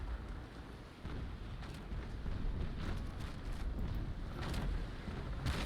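Broadside cannons from a ship of the line boom in rapid succession during a Naval Action sea battle against three elite Bucentaure ships, a dense, continuous rumble of overlapping shots with sharper reports standing out near the end.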